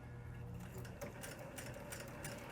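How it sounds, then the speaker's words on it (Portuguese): A pedal-driven sewing machine stitching steadily, its needle mechanism whirring and ticking in an even rhythm, fairly quiet and close, with no voices. "você vai lá pegar o pedal da sua máquina e vai começar a costurar"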